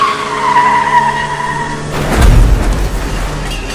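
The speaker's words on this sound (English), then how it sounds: "a car in front of him suddenly loses control" A car loses control at speed, its tires squealing in a sustained skid that gives way to a loud rumbling, crunching impact. The sound is close and forceful, with no voices.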